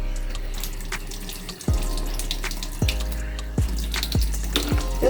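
Water runs steadily from a tap onto a section of hair being wet for styling with gel, a continuous broadband rush with a few brief interruptions and splashes, close and fairly loud with no talking.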